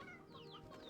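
Chickens clucking in the video game Slime Rancher, a brief close burst of game-farm hen calls, with chirpy bird-like tones over a steady musical or ambient bed.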